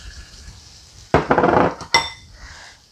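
A metal bubble waffle maker with pizza dough inside is clamped shut, giving a loud metallic clatter and scrape followed by a sharp clank, then quiet.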